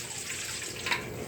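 Rice grains being rinsed by hand in water in a home kitchen before cooking lunch, a steady close splashing and sloshing with a brief louder swish near the end, no voices.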